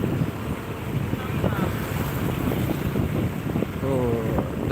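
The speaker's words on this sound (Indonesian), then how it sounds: "Angin di sini kencang." Strong wind buffets the microphone with continuous low rumbling roar, steady and loud throughout, outdoors in the morning in Balige during a relaxed motorbike ride.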